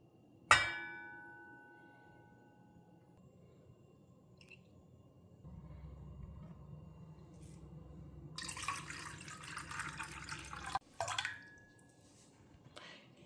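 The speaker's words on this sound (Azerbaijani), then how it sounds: "İçerisine de 200 gram yani 200 ml su əlavə etdim." Water, 200 ml, is poured into a pot already holding oil: a sharp clink at the start, then a quiet lull before a brief rushing pour and splash near the end, close, with no talk.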